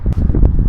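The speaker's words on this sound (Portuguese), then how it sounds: "Gente, que vento!" Gusting wind buffeting the microphone outdoors, a brief low rumbling rush with a couple of sharper puffs, loud and close.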